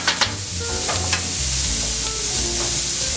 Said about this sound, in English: We're just going to sweat those down a little bit in the same pan.